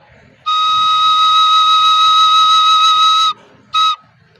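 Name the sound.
recorder playing high E flat note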